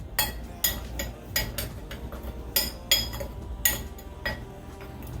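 A utensil mixing fajita seasoning and sugar in a bowl gives a run of sharp clinks and taps at an uneven beat, close and fairly loud, with no talking.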